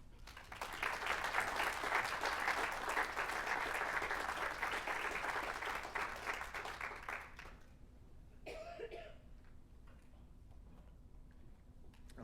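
A lecture audience gives a warm round of applause to welcome the speaker, steady dense clapping for about seven seconds that then fades, followed by a cough and quiet room noise.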